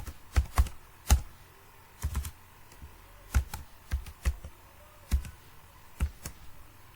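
Keys being typed on a computer keyboard while entering school subject names into a class result sheet: a dozen or so sharp clicks in irregular bursts, close and fairly loud, with no talking.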